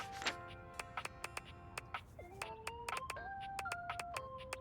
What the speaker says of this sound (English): maybe it just always has a notification